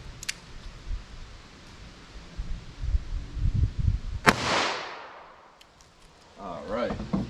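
A 10mm revolver fires into ballistic gel with one sharp, loud shot that leaves a decaying ring, after some handling rustle and before a brief clatter at the end.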